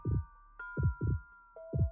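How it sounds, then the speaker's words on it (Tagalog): A loud, close heartbeat sound effect for a Tagalog horror story, thumping in double beats three times over a steady low hum, with no voices. "dinig na dinig niya ang malakas na kabog ng kanyang dibdib."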